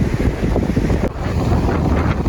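Strong wind blows on the Sri Lankan coast near Trincomalee, roaring as steady, loud buffeting against the microphone, with a broad wash like surf.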